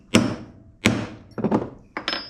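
Four sharp metallic hammer blows, close and distinct, spaced roughly half a second apart, banging out a practice piece while repairing an old Masport mower that sat for several years.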